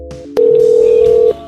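A telephone line tone at the start of a prank phone call, a loud steady electronic beep lasting about a second, with faint line noise before and after.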